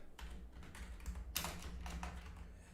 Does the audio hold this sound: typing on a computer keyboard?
yes